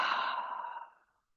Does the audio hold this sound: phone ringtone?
no